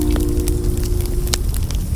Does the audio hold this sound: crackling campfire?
yes